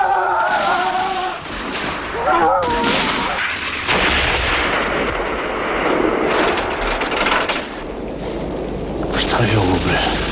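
Gunfire and explosive bursts crash through a Yugoslav war-film battle scene, with heavy blasts and rattling shots coming in waves under shouting voices, loud and close throughout.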